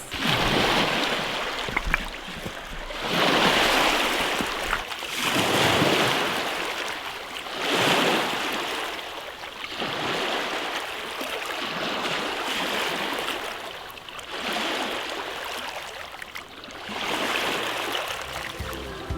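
Gentle waves wash rhythmically onto the shore of Lake Traful in Patagonia, each surge swelling and fading every few seconds, steady and moderately close, with wind noise on the microphone.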